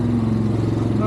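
A Yamaha Grizzly 700 ATV engine idles steadily with a low, even throb as it creeps through a mud pit; a voice talks over it throughout.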